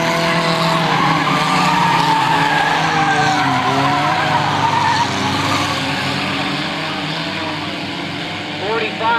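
Race cars roar and squeal around a racetrack in a 1998 race, engines droning loudly with shifting pitch and tire noise, while an announcer talks over them.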